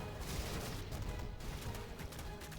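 StarCraft II disruptor shots sound in a busy stretch of quiet battle, with muffled bursts and thuds rolling over a dense wash of combat noise.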